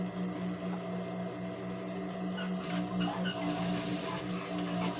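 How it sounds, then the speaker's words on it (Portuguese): A sewing machine steadily stitches fabric for a baby car seat cover, its motor humming continuously with a rapid needle rhythm close by throughout, and no voices. "Vou costurando aqui, cheguei ali no meio vou ajeitando o tecido e costurando"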